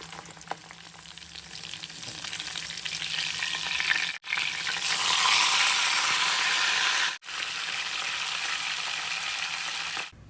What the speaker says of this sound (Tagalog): Tapos nagpainit na nga rin pala ako ng mantika sa kawali at ipiprito naman natin ito.